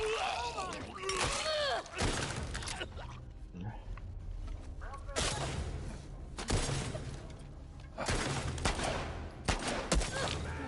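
Gunfire rattles in The Last of Us Part II, with bursts of shots and sharp impacts arriving in several clusters over about ten seconds amid game noise, while people talk over it.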